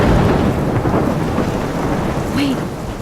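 Storm in the video game Life is Strange: steady, loud roar of rain with rumbling thunder throughout, no talk.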